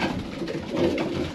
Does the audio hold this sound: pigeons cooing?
yes